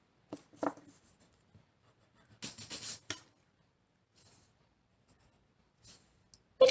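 Pen strokes scratch across paper while sketching a hot dog, in short faint bursts with one longer stretch of steady scraping, set against near silence.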